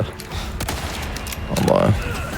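Shotgun blasts from the Resident Evil 4 Remake video game, a few sharp booming shots spaced unevenly over a steady game backdrop, with a voice talking over the action.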